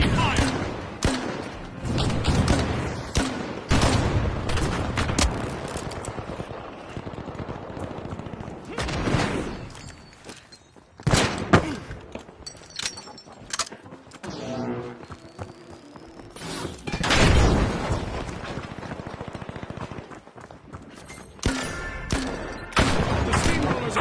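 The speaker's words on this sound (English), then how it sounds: "RPG fire!" RPG rockets and explosions in The Finals video game, a rapid string of loud blasts and gunfire bursts across the whole stretch, with short lulls and a voice calling out at times.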